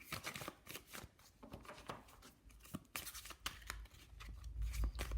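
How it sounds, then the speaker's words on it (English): Guidance cards are shuffled by hand for a card reading, giving repeated crisp riffling and slapping bursts at an irregular pace, close and fairly quiet, with a low rumble building toward the end and no talking. "I'm going to pull some guidance cards for you."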